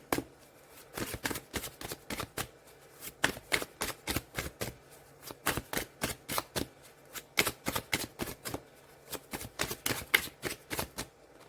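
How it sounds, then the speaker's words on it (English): Tarot cards shuffled in steady rapid riffling bursts, loud and close, with short breaks as cards are pulled from the deck. "need to pull out 2 more cards"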